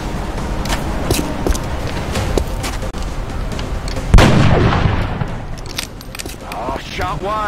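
Gunfire rings out in the XCOM: Enemy Within strategy game during a mission in Saint Peter, a sharp loud shot with echoing tail amid clattering effects and background game sounds.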